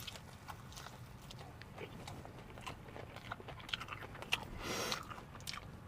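Close crunching bites and chewing of crispy breaded chicken nuggets, a dense run of crackly crunches with a louder bite near the end, under a low background murmur.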